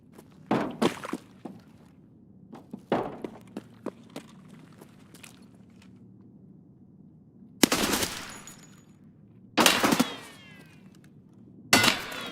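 Several bursts of automatic gunfire in PUBG Mobile, with a scattering of lighter taps and thuds early on, then three loud, broad volleys spaced a couple of seconds apart near the end.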